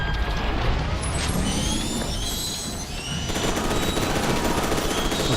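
Rapid automatic gunfire in F.E.A.R. 2 hammers at a mech enemy, a loud, dense stream of shots with metallic ricochet pings layered over a constant roar.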